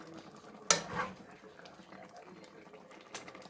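Dishes and cutlery clinking as food is ladled into a bowl in a home kitchen: a sharp clatter near the start, a softer scrape, then another brief clink, with quiet background between.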